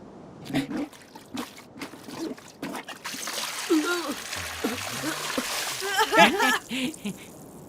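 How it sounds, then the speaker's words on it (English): Liquid trickles and splashes in short bursts as a flower potion is poured out, with people talking over and around the pouring. "pour the flower potion"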